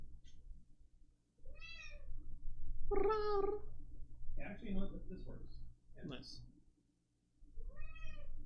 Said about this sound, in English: I gotta take care of this cat, though.